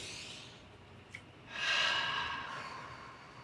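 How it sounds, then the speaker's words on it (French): Someone takes a deep breath in and then lets it out, a long, close, airy inhale swelling into a loud exhale that fades away. "On inspire profondément."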